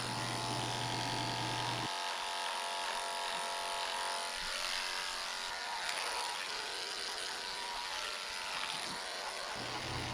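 Electric clippers fitted with a #10 blade buzz steadily while shaving the leg of a Miniature Schnauzer, a close, continuous whine whose tone shifts slightly as the blade moves through the coat, with no one speaking.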